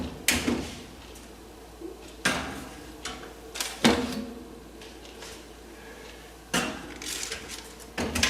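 Bread pans are slid into an oven, with several distinct metallic clanks and thuds from the pans and the oven door or rack, separated by quiet pauses. The sounds are close and moderately loud.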